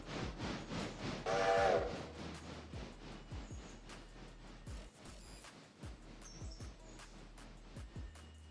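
Video-game train locomotive running steadily with a brief whistle-like tonal burst near the start, repeated clanking rhythmic knocks throughout, and faint higher tones later, no talking.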